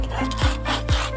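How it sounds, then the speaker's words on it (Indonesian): A hand saw cuts through wood in a fern-tree (pohon paku) craft workshop, rasping back and forth in rhythmic strokes, close and fairly loud with no talk. "menggunakan gergaji"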